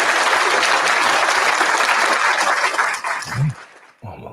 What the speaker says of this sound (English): Oh, a little applause there.